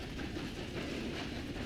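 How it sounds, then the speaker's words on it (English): A moving train in Red Dead Redemption 2 gives a steady, close rolling rumble and rattle with a hissy wash, continuous and unbroken. "The train actually keeps moving."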